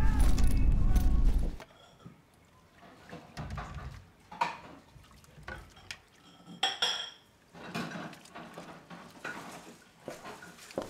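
Dishes and cutlery clatter in a home kitchen, a loud burst of washing-up noise at first, then scattered clinks and knocks under quiet voices.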